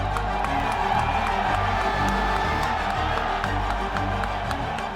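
Dense crowd roar with cheering, whoops and scattered clapping at a 2018 golf tournament during Tiger Woods' comeback, loud and sustained throughout with excited voices mixed in.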